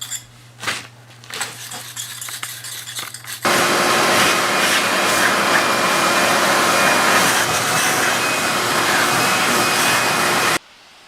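A vacuum cleaner running over a blue-stone patio, starting after a few seconds of clattering handling and then holding a loud, steady close whine and roar until it cuts off abruptly.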